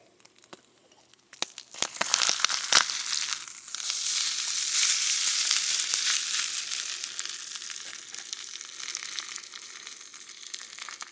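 Beef sprinkled with coarse beet sugar sizzles loudly in a Russian cast iron pan, a dense steady hiss preceded by a few sharp crackles and pops, with no talking.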